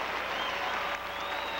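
A figure skating crowd at the 1984 U.S. Championships pairs event gives a standing ovation, a steady, dense wash of clapping that stays loud and even throughout, with no talk heard.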